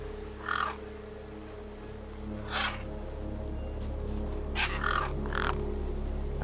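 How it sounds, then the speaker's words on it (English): Birds squabbling over a feast in Beyond a Steel Sky: a few short, harsh croaking calls come in separate bursts over a steady low ambient hum, moderately close and not very loud. "No way I was going to get between those birds and their feast."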